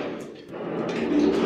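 Elevator doors pushed open by hand, a close scraping, sliding rumble with a soft knock partway through, fairly loud and continuous.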